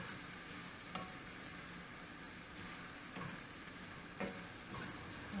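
Onions fry and caramelize in a pan with a soft, steady sizzle. Occasional faint clinks of a utensil stirring come through every second or so.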